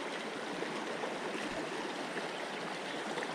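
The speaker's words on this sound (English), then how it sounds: "We're trying to cross the river here" Continuous rushing and trickling of a creek's water while wading across, a steady close broadband wash with no voices.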